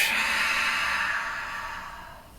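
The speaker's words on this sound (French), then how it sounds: "Profonde expire par la bouche." A single long, deep breath is pushed out through the mouth during a gentle yin yang yoga session, a close, airy whoosh that slowly fades over about two seconds.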